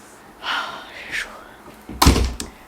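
A door is pushed shut in a family home, a single sharp slam with a short thud near the end, close and loud, following a brief faint voice and some soft rustling.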